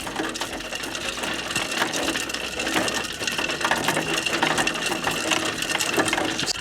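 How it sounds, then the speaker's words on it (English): A coffee pulping machine in Timor-Leste strips the pulp from coffee cherries with a steady, loud mechanical rattle and grinding clatter that runs without a break. "It's important that your machine is calibrated and that your beans are properly pulped"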